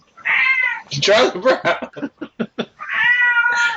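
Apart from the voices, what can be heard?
cat meowing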